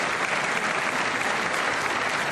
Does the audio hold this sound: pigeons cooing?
no